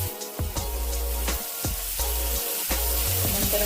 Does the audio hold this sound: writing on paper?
no